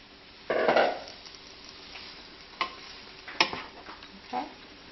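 A bell pepper and garlic mixture is stirred in a pan, giving a few spaced, quiet scraping strokes over a soft background hiss, with no talking.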